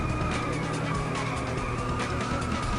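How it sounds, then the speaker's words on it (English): A car drifts through a course in England in the racing game Inertial Drift, its engine droning steadily under a continuous tire-skid hiss, loud and unbroken. "Looks like we're in England doing a little bit of drifting"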